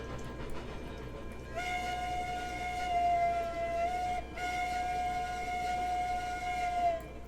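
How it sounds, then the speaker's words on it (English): A steam locomotive whistle from the train game Railroads Online sounds in one long steady blast with a brief dip midway, loud over a low rumbling rail background, with no talking. "thought I'd add to the excitement with the whistle"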